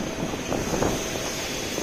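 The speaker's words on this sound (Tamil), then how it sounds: "புது ஃப்ளைட்டு A350" Air India Airbus A350 aircraft, a steady broadband engine roar with a high whine, continuous and fairly loud throughout.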